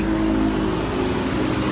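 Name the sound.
cars passing on the road in Tagaytay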